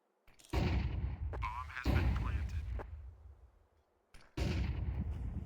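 Gunfire in a Counter-Strike match: several loud, heavy shots and bursts ring out close by, spaced with short pauses and lingering echoes, one more blast near the end.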